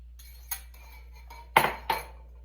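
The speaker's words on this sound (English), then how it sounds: "Now I'm going to add 3 eggs" Three slightly beaten eggs go into a spiced cushaw pie filling with a few sharp clinks against a glass bowl, one light tap followed by two louder knocks close by.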